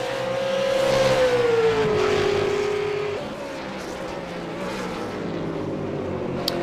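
A V8 Supercar in a racing video game at Okayama holds a continuous engine drone, its whining pitch sliding down and settling before the engine runs on at a steadier note.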